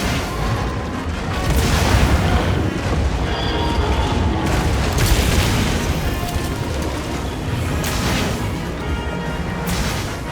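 Bowgun fire in Monster Hunter Wilds during a Gogmazios hunt: dense, continuous booming blasts and crashing impacts that keep up steadily for about ten seconds, loud and without clear gaps.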